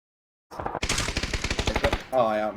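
Automatic gunfire in the video game PUBG, a fast burst of about a dozen loud, evenly spaced shots after a moment of silence, followed by a short voiced sound at the end.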